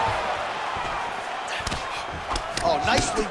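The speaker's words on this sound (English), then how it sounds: "Oh, big punch lands." Punches land in a UFC bout between Islam Makhachev and Max Holloway as several sharp thuds, with a quick cluster near the end, under arena crowd noise and commentary.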